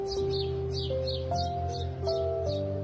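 Songbird chirps repeat in quick, evenly spaced bursts, about eight in a row, over a steady tonal melody that steps between sustained notes.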